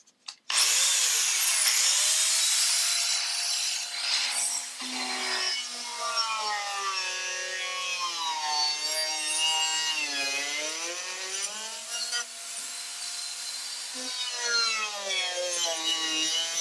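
A power saw cutting through wood on antique furniture being restored, a loud continuous whining grind with shifting pitch that runs steadily for the whole stretch after a brief start, close and alone.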